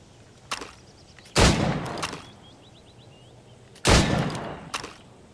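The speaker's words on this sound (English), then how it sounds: "Go on. Shoot these targets." Two loud gunshots fired at targets in Assassin's Creed Rogue, spaced a couple of seconds apart, each with a sharp crack and a trailing echo, with faint game ambience between them.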